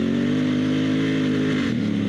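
An adventure motorcycle on a Kenda Big Block DS knobby tire pulls forward under acceleration, a steady loud engine drone holding near and constant, with a slight dip in pitch toward the end.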